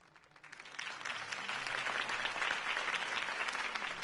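A crowd in the Telltale Batman video game breaks into applause after a campaign speech, swelling from quiet to a full, sustained clatter of clapping that holds steady at a moderate distance.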